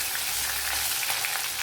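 Mustard seeds with crushed garlic and small pieces of ginger sizzling steadily in hot coconut oil, a dense close frying hiss with faint crackles and pops throughout.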